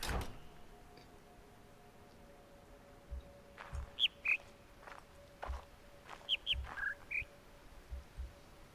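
Bird song puzzle from a speaker in the video game The Witness: several short chirped whistles at differing pitches in a loose sequence, moderately faint over low ambient hum and soft thuds.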